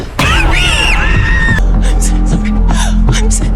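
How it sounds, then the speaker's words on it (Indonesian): A woman in a horror film scene lets out a loud, wavering scream that sweeps up and down in pitch, followed by a sudden bang and tense, breathy gasps and cries over a low rumble. "membuat Claire berteriak"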